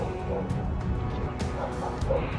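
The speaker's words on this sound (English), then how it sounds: "somebody had called to complain that your dogs are barking all day" Small dogs yip and bark in quick, fairly faint bursts, a scattered series of sharp calls over a low background hum.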